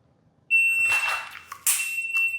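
A loud, steady electronic shot timer beep during pistol draw practice holds its tone for about two seconds, broken by sharp bursts of noise.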